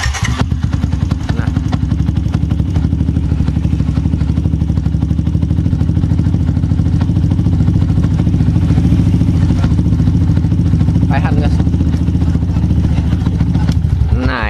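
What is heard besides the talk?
Yamaha Jupiter MX King motorcycle engine starting and idling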